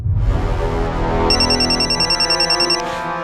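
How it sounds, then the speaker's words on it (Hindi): A telephone rings loudly with a repeating electronic trill, a rapid pulsing tone sounding alone in short bursts. "ये तो कोई अननोन नंबर है। उठा। फोन उठाइए, समर का हो सकता है।"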